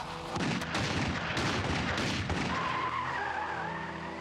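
Two guns emptied from a car, a loud dense burst of rapid gunfire with heavy crashing blasts and an engine roar, continuing for several seconds before easing into a lighter, ringing tail.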